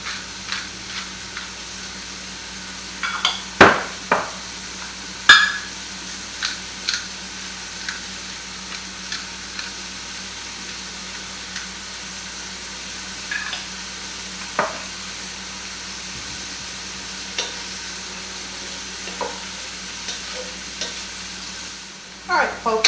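Bacon, mushrooms and chicken thighs in a cream mixture sizzle steadily in a pan, with a spoon scraping and stirring in sharp intermittent clatters over the constant frying hiss.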